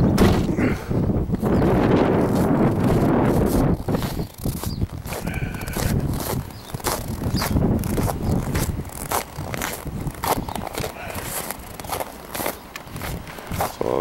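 Gusty wind blows outdoors near a windmill tower, a continuous broadband rushing that buffets the microphone loudly with uneven surges and crackling handling noise throughout.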